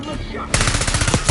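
Rapid automatic gunfire from the video game Black Ops bursts in suddenly after a quiet lead-in, a loud, dense stream of shots at a fast steady rhythm continuing to the end.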